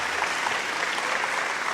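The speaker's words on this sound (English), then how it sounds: "Can we get a round of applause sound effect?" A canned applause effect plays as a short, dense burst of many hands clapping. It holds at an even level with no voices over it.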